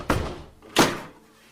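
Two heavy knocks on a door in a music video, a professor rapping to interrupt someone; the raps are spaced apart, the second louder and closer, each with a dull thudding body and no voices.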